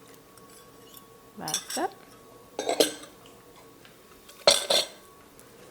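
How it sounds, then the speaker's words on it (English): Eggs for a cheese pie filling are beaten with utensil strokes, giving three brisk bursts of clinking and scraping against the bowl, and a person speaks briefly. "I'm gonna beat my eggs and then just put them in here"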